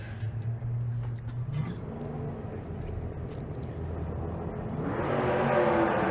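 Drag race cars at Bandimere speedway run down the strip, a low engine drone swelling into a loud, rising roar of acceleration near the end.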